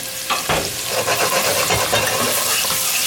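Chopped garlic frying in olive oil in a pan gives a loud, close, steady sizzle, broken by a few scraping stirs, with no voices.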